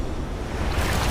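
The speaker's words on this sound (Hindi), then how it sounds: "ये आई बड़ी लहर।" A large ocean wave rolls in against a rocky island shore, a broad rushing wash of surf that swells louder toward the end, with wind noise and no talking.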